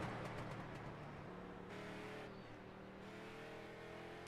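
Race car engine in a racing video game on a qualifying lap, a steady sustained drone with layered harmonics that shift in pitch as the car accelerates and lifts, fairly quiet throughout.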